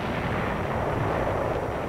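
Artillery fire pounds Japanese-held buildings during the 1945 Battle of Manila, a dense, continuous, roaring rumble of booms blended into one heavy wash of noise, with no separate blasts standing out.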